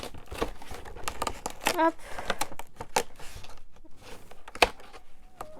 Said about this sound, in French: Ah non, j'ai arraché le calendrier.